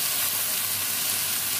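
Shredded cabbage hits a hot pan of fried spice mix with turmeric, tomato, whole rice grains and green chillies, setting off a loud, steady, close-up sizzle that fills the whole moment without pause.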